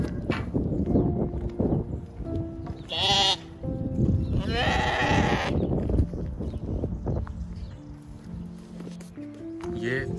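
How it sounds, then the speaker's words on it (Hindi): Sheep kept on a farm in an English village bleating close by, several drawn-out wavering calls over steady outdoor background with people talking throughout. "ये देखिए जी, हमारे पास एक भेड़ आ गई है"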